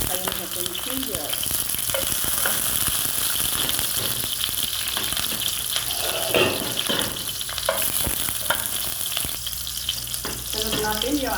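Garlic and ginger frying in hot oil for pinakbet, a loud, continuous crackling sizzle with occasional stirring scrapes, steady and close throughout.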